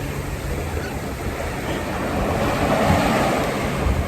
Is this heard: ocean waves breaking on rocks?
yes